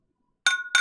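Two bright glass clinks ring out during a toast, the first at about the midpoint and a second shortly after, each with a short shimmering decay, close and clear against silence.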